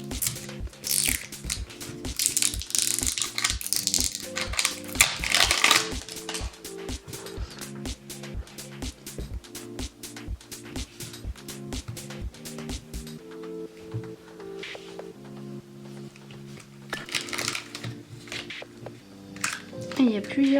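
Crinkling plastic wrapper of a yellow toy banana being opened nearby, dense rustles and crackles with brief pauses, under someone speaking French off and on.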